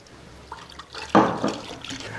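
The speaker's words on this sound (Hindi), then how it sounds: "ये प्योर मिल्क हम इसके अंदर डाल रहे हैं।" Pure milk poured into a liquid mixture, a short splashing pour that swells suddenly and trails off over a couple of seconds, close by with no talking.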